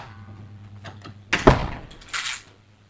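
Apartment door swinging shut with a sharp thump, followed a moment later by the brief mechanical whir and click of a smart lock engaging, both close and clear over a faint low hum.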